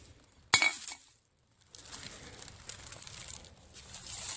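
Old glass alcohol bottles give one sharp clink, then a short silence, then continued faint crinkling and shuffling rattles outdoors, with no voices.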